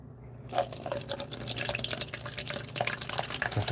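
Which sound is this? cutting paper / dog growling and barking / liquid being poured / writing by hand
liquid being poured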